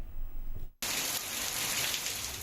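Heavy rain pours in Khyber Pakhtunkhwa, a dense, steady hiss of falling water that cuts in abruptly after a brief gap and continues loud and unbroken.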